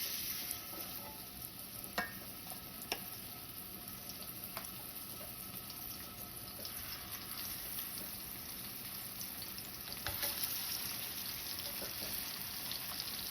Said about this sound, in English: All right, so now that my oil is hot, I'm gonna start adding my tuna steaks.